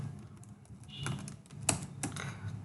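Text typed into a file on a computer keyboard in a Linux terminal, a short burst of quiet, close keystrokes at an uneven pace with no talking.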